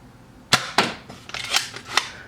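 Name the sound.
Boomco Halo Covenant pistol toy blaster firing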